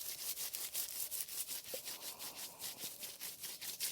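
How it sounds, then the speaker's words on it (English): Dry seed pods of cover-crop greens rubbed and crumbled between two hands in a greenhouse, a steady close rustling scratch repeating in quick rhythmic strokes throughout, with no talk. "Just rubbing it in our hands, breaking it all up, letting it go to the ground"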